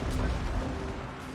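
Artillery towers fire in the Total War: Warhammer 2 video game, a dense rumbling barrage of booms and crashes that holds steady and loud for the whole clip, with no clear gaps between shots.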